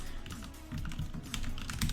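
Rapid typing on a new computer keyboard, a steady close-up patter of key clicks with brief irregular pauses and no voices.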